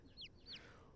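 Two quick high chirps from cartoon chicks in the Great Ace Attorney Chronicles game, close and clear over a low background hum.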